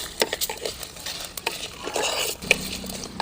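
Cumin seeds fry with fennel seeds and a pinch of salt in a pan, giving a steady sizzle and patter with repeated scraping stirs and light clinks of a spoon, fairly close, without talk.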